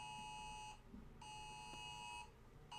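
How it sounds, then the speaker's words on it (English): Phone ringing alone in a quiet room, an electronic ringtone in repeated bursts with brief gaps, fairly faint and steady. "I got two phones and now they're both going off."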